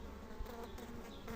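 Honeybees swarming around a hive as its colony is transferred into another hive, a steady dense buzzing drone with no voices, close and continuous.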